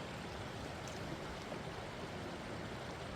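Shinumo Creek flows steadily near its confluence with Flint Creek in the Grand Canyon, a dense, even wash of rushing water with no breaks and no voices.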